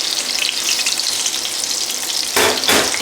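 Fish and chips sizzling steadily in hot oil in a frying pan, a loud continuous crackle up close with a brief stirring shuffle near the end.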